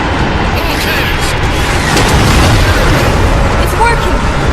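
Warship cannons thunder in a Halo 4 cinematic, a dense, loud wall of booming blasts and rumbling bursts with a voice speaking beneath the barrage.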